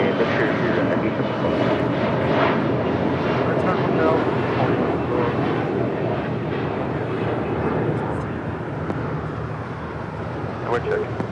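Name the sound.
JetBlue airliner taking off at LAX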